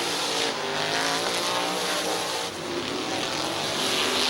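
Race cars roaring around the Midvale Speedway oval, a loud continuous engine drone with a pass-by swell midway, close and steady throughout with no voices.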